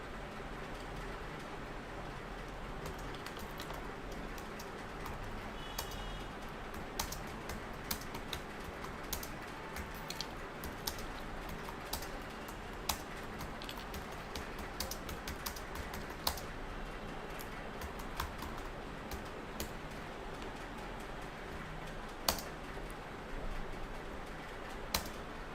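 Quiet, steady keyboard typing clicks away on a computer as an answer is written out during a live English class, with scattered sharper keystrokes over a low background hum.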